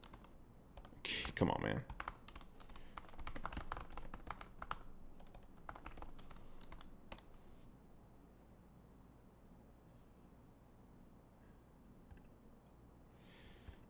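Close keystrokes on a computer keyboard come in quick bursts, loud at first and then thinning to sparse taps, with a brief muttered remark in between.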